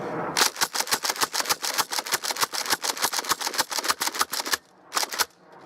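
A Nerf Rampage blaster slam-fires foam darts in a fast, even string of about twenty sharp clacks, then falls briefly quiet before two last shots.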